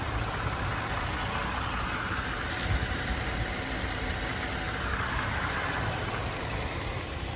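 A 2022 Ford Bronco two-door Wildtrak 4WD Sasquatch with a 2.7L EcoBoost engine and hardtop idling, a steady close rumble that holds evenly throughout with a slight swell near the middle.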